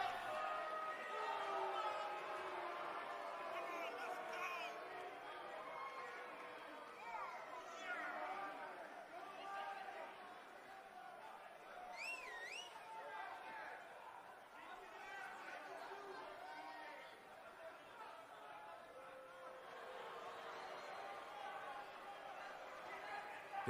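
Arena crowd in the WWE 2K19 wrestling game chattering and murmuring steadily before a tag team title match, a dense continuous babble with occasional louder whoops, no clear voice on top.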